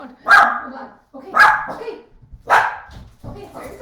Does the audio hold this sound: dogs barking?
yes